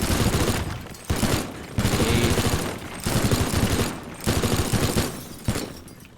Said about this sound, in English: Grab that minigun back.